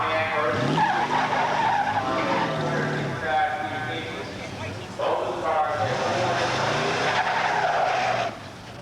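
1985 muscle cars, including a Pontiac, launching in a drag-strip grudge race at Beech Bend, with loud engine roar and tire squeal that swell, dip briefly and surge again before cutting off, an announcer speaking over it.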